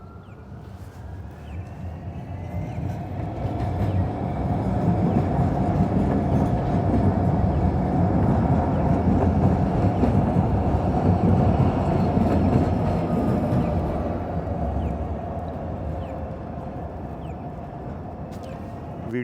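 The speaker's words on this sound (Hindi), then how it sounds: "ये ट्रेन रूट है, सामने ये ट्रेन का स्टेशन है।" Near a station in Calgary, a train passes with a loud, continuous rumble and rattle that swells for several seconds, holds steady, then slowly fades.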